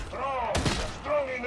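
Gunfire in a video game: a burst of booming shots lands under overlapping voices, with a heavy blast in the middle of the exchange.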